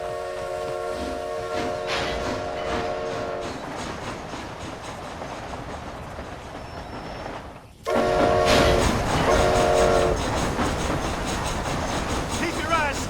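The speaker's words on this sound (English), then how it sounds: "This train headed for Mexico?" A train rolls along steadily in Red Dead Redemption: Undead Nightmare, with a continuous rumbling, clattering roar and faint tonal whistle-like traces that swell louder partway through, while voices speak over the noise.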